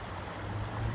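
A backyard water feature flowing steadily, heard as a continuous, fairly close rush and splash of water with no speech.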